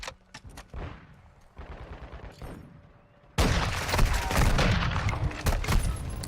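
Gunfire in Call of Duty: Modern Warfare 2, with scattered sharp shots early, then a dense, loud burst of rapid automatic fire that continues to the end.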